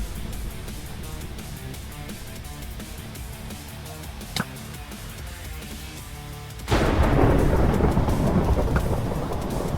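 Minecraft lightning and thunder: a sharp crack partway through, then a louder, sudden rumbling roar that keeps going over a steady background of in-game rain and noise.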